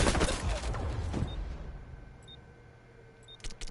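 LVOA rifle firing in the shooter game xDefiant: a dense burst of close, loud gunfire in the first second, then quieter trailing shots and faint clicks as it dies away.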